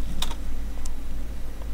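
A few scattered keystrokes on a computer keyboard, with one quick double click near the start and isolated taps after, faint over a steady low hum.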